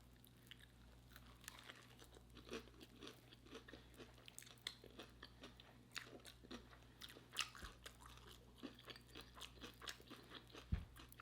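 Fried cod fish sandwich bitten and chewed close to the microphone, a steady run of soft crunchy bites and wet chewing clicks over a faint low hum, with no talking.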